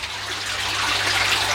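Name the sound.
water flowing into pond filter house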